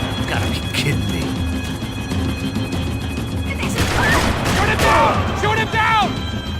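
Gunfire in the video game Max Payne 3, repeated sharp shots and clattering impacts over a busy action-game soundscape, with bursts of crashing debris near the end.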